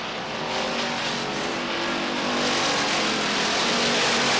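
Stock race cars roar around the oval at Beech Ridge Motor Speedway, a dense, loud, continuous engine drone from the pack that swells slightly toward the end.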